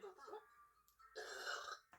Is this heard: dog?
no